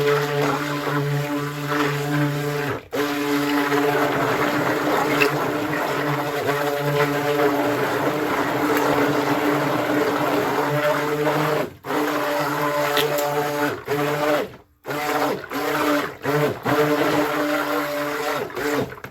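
A blender churns a thick batter of African kombo shea soap with cocoa butter in steady loud bursts, a continuous motor whine broken by a few brief pauses between pulses.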